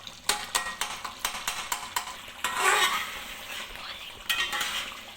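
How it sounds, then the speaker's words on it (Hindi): Metal spoon mixing and mashing tomatoes in a cooking pan for chicken karahi, a run of quick rhythmic scraping clacks followed by wetter stirring sounds with faint sizzling, close and alone. "उसको चम्मच की मदद से आप मिक्सअप कर दें, अंदर मैश करें इसको अच्छी तरह से"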